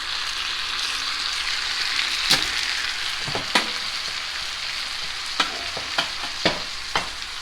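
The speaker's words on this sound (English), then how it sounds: "Now we're going to put our marinara sauce in it." Marinara sauce goes into a pan of cooked, drained meat for lasagna, sizzling steadily while a spoon scrapes and stirs in several sharp clacks against the pan, with no talking.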